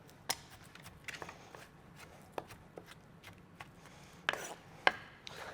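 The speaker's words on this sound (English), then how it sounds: "So just getting the chilli first. And really just run your knife through it" Knife chopping charred chilli for a roughly chopped salsa: sparse, irregular knife strokes on a board, a handful of sharp taps spread across the stretch, faint and close, with no talk.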